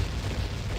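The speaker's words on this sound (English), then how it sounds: "Synchronized explosions." Synchronized explosions in the video game Zelda: Ocarina of Time, a dense, rumbling low boom sustained through the short moment, loud and heavy in the bass.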